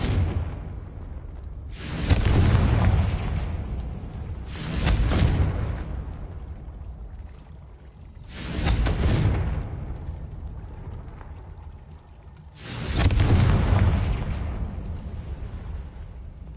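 Confringo spell blasts in Hogwarts Legacy, four loud booming explosions each followed by a long rumbling decay, spaced a few seconds apart with no talking.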